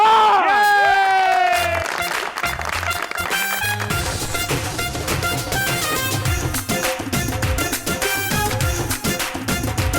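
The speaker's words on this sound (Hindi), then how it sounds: "प्लीज वेलकम आपकी भरपूर तालियों में" A studio audience at a comedy talk show applauds and cheers loudly and continuously after a brief musical sting, with scattered shouts rising over the dense clapping.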